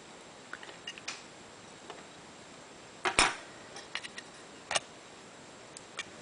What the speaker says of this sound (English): we have to use a screwdriver to screw it nicely in place